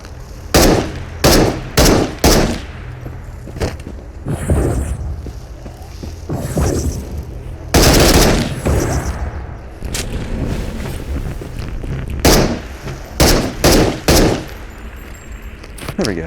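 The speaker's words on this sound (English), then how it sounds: "I don't know why that thing took so many rounds, but I guess it's dead now." Bursts of gunfire while shooting a creature in the VR game Into The Radius, loud sharp shots in rapid clusters and volleys with short gaps, plus handling clatter between strings of fire.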